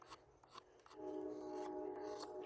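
A knife blade scrapes and shaves around the rounded point of a wooden stick in a brief series of close, rasping strokes, followed by a steadier, sustained scraping.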